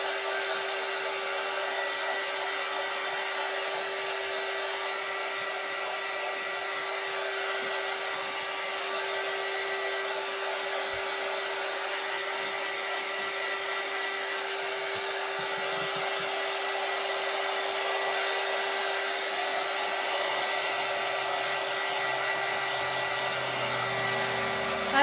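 A hair dryer blows continuously to dry a fresh glossy wood finish, a steady loud whir with a fixed hum that holds unchanged throughout.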